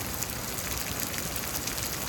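Steady rain falls during a thunderstorm in Houston, Texas, a dense continuous hiss of drops on surfaces holding an even level throughout with no voices.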